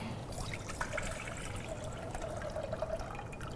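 Coconut water trickles and dribbles steadily from a freshly cracked coconut in a Garifuna kitchen, a faint, continuous liquid pour with no voices.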